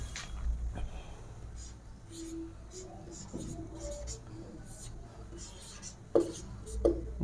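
Pen or chalk writing out a grammar definition during a Hindi lesson, with soft scratchy strokes coming in short bursts and a couple of louder taps toward the end, while a faint voice murmurs underneath.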